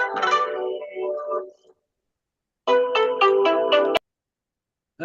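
A phone ringtone plays in two loud bursts separated by silence, the second a pulsing, warbling electronic tone that cuts off abruptly before a brief restart at the end.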